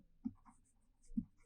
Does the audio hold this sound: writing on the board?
yes